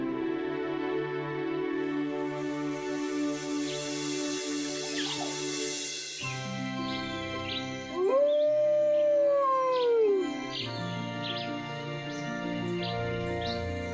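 A wolf howls with several long, rising and falling wails, loud and close, layered over sustained music, with faint bird calls in the background.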